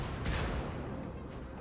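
Heavy battleship guns firing in World of Warships from the Mikasa, two deep booming blasts about a second apart with a rumbling tail between them.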